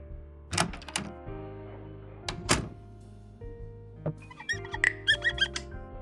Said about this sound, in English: The door to the bar.